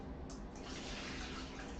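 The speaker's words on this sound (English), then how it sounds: "I'm going to take these into my sieve" Rinse water full of red tea leaves pours into a sieve in a steady, loud, close splashing rush over a sink.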